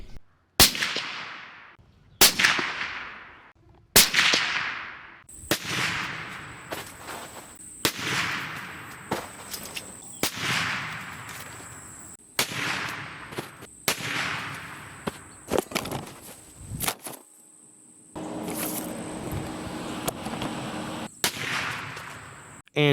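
Federal Premium .308 Winchester rifle fired into ballistics gel with a 150 grain Nosler Partition load: a string of loud, sharp, close reports, each with a short ringing decay, repeated every second or two.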